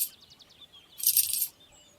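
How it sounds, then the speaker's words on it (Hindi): Coins dropping into a pair of shoes in a cartoon story: a short run of bright metallic clinks, then a half-second burst of jingling, alone with no talk. "इसके बाद शिक्षक और शिष्य ने उन जूतों में कुछ सिक्के डाले"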